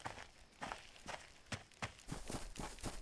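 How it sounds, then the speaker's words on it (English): Running footsteps in the video game DayZ: heavy, evenly paced thuds about four per second, close and stomping, with no talk over them. "the other weird thing about this game is this running noise"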